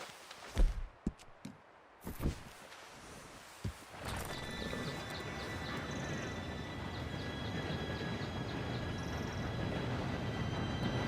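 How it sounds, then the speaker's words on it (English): A train approaches in the video game Red Dead Redemption 2. Horse hooves clop first, then a low rumble and rattle rise and build steadily as the train draws nearer. "Train should be here any minute now."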